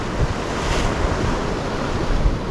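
Ocean waves crash and roll continuously onto an uninhabited island shore, loud and close, with wind buffeting the microphone throughout.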